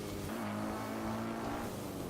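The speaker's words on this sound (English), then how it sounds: "my motorcycle's running out of juice here" Motorcycle engine in Zelda: Breath of the Wild, a steady, loud drone that holds its pitch with no breaks for the whole stretch and has no voices over it.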